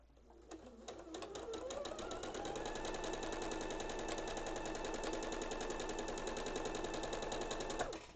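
A sewing machine with a built-in walking foot stitches fabric in a long, steady run of rapid needle strokes. The mechanical clatter starts, picks up speed, holds an even pace close by, then stops.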